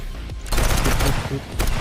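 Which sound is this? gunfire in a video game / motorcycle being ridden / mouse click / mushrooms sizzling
gunfire in a video game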